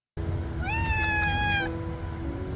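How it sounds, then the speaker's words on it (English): A cat gives one clear, drawn-out meow close by, over quiet room noise. "That cat is so goddamn adorable."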